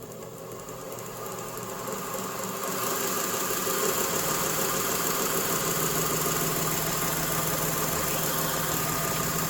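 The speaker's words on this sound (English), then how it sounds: "now this is a resonance that's really due to the seam in the belt" A Vevor 1x30-inch variable-speed belt grinder runs steadily with a humming, slightly throbbing resonance from the seam in its belt, growing louder after a few seconds and then holding at a constant level without talk.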